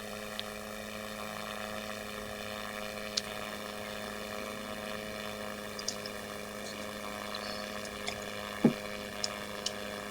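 The engines of a huge bomber aircraft drone steadily, a layered, tonal hum that holds even at moderate distance, dotted with a few faint clicks.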